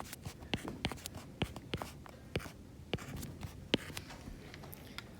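Pen scratching and tapping on paper while sketching a polar graph, a series of short, crisp strokes and taps at an uneven rhythm, close and fairly quiet, with no talking.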